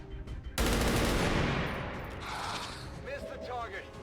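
Rifle gunfire in XCOM 2 with a Warhammer 40K mod, a sudden loud burst of rapid shots that decays into a rumbling tail with mechanical game effects, a voice talking over it.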